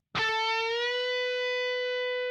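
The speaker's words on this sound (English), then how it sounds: "we're going to be bending up on the 14th fret" A single electric guitar note picked and bent upward on the 14th fret of the G string, then held steady with a faint wobble as it sustains, ringing clearly and alone, slightly overdriven.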